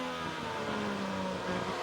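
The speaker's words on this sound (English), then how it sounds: "back on the power, listen to the sound of the engine" A 2008 Superleague Formula race car at Estoril, heard onboard under full power, gives out a steady, loud, high-pitched engine whine with a constant tone throughout the short stretch.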